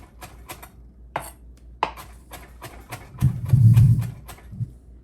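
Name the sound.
chopping fresh parsley with a knife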